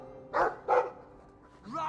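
A dog barks twice in a video game, two short, close, moderately loud woofs in quick succession. A brief higher vocal yip follows after a pause.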